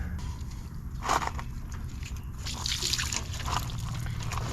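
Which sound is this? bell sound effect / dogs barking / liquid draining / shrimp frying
liquid draining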